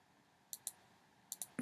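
Mouse clicks from working with the mesh tool in Adobe Illustrator, two pairs of quick, faint, close clicks separated by a pause, then a final click, over quiet background.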